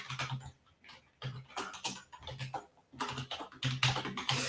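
Someone types an email on a computer keyboard in bursts of fast, close key clicks with short pauses between runs.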